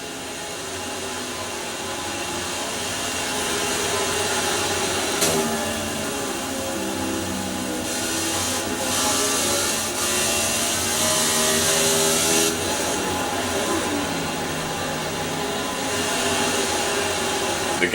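Stock cars racing in the NOSSCAR X2 Series First Tennessee 100 at Bristol Motor Speedway, a loud, unbroken engine drone with rising and falling pitch as cars pass close by.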